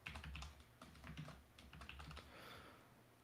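Quick, irregular clatter of computer keyboard keys being typed on, close and fairly soft, a steady run of taps for about three seconds with no voices.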